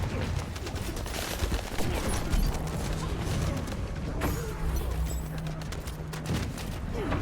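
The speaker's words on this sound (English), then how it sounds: "They're all shooting at the Skeelan." Gunfire in the video game The First Descendant, a busy continuous crackle of shots and mechanical clatter from several weapons at once, fairly steady and moderately loud throughout.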